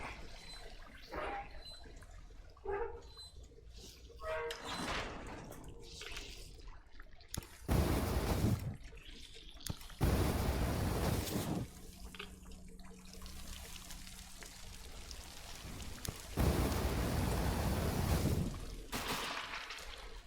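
Running water in the Metro Exodus video game, a steady trickling and splashing stream broken by several loud bursts of noise, heard alone without talk.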